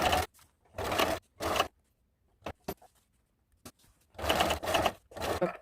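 A sewing machine stitches fabric with long straight stitches in bursts of running separated by pauses, with short backstitches in between, close and loud, with no voices.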